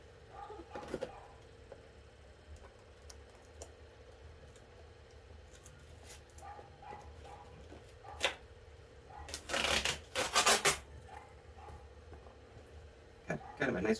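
Tape being torn and picked at on an Insta360 Go 3 action camera box: scattered crackling paper and tape rips, with a louder tearing flurry near the middle, all fairly close and soft.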